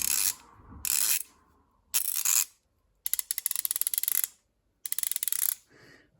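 A Hazet 916 HP ratchet, made in Germany, turned by hand in several separate bursts, giving quick, crisp clicking runs close up with short silent gaps between them.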